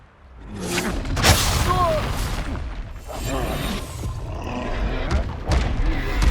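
An explosive spell goes off in the game Hogwarts Legacy: a heavy boom bursts out early, then rumbling blasts and crackling effects continue throughout. A voice calls out over the loud, dense battle noise.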